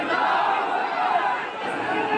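A dense crowd of thousands surges along a funeral procession to a graveyard, many voices merging into a loud, continuous murmur of chatter that fills the whole stretch without pause.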